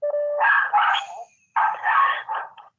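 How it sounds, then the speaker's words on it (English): A dog barks nearby in two quick clusters of sharp, yelping barks separated by a short silence, loud and clear with no voices over it. "It's hard to focus with the barking."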